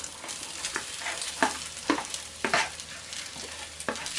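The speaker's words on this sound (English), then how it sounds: "And I find it's best to use a spatula like this, a wooden one, because you can break down the rice" A wooden spatula stirring and scraping rice seasoned with salt and pepper in a pan, with repeated scrapes in an irregular rhythm over a soft sizzle, close and fairly loud.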